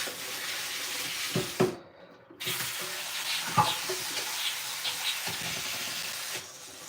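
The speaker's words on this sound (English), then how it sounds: "So I'm washing them guys right over here, getting them washed." Tap water runs into a sink as okra and pumpkin are washed, a steady close rush of splashing broken by a brief pause and occasional clunks and knocks from handling.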